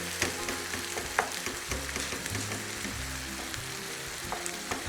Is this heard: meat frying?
yes